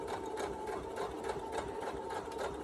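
A sewing machine stitches fabric for a knot hair bow, running in a steady continuous whir with a brief reverse for back stitches, close and alone with no talk.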